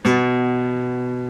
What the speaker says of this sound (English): hammering on the 2nd fret of the A string